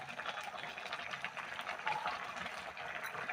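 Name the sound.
bathua greens with lentils simmering in a pot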